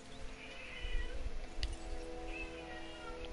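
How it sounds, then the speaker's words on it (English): A house cat meows a few times, fairly close, over a low steady hum from game audio, with no talking. "Cat! What are you crying about?"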